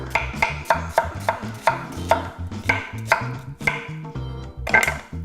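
A knife slices through onions on a cutting board in quick, even chops, each cut a sharp close knock, about a dozen strokes in a steady rhythm with no talk.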